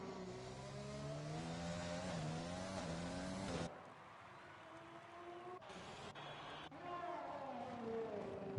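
Red Bull Formula 1 car in F1 2020 at Bahrain, its engine whining loudly through shifting pitches under acceleration, then dropping away briefly before revving back up.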